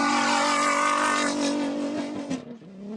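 Rally car number 205 pulls away from the start line of a desert rally stage in Abu Dhabi, its loud engine roaring steadily with rich harmonics before the sound thins and fades as it departs.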